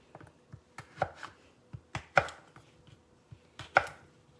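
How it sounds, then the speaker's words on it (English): A knife chops through snack food on a cutting board in sharp, uneven strokes, some clustered in quick pairs, close and clear with no talking. "That's why I'm cutting these up."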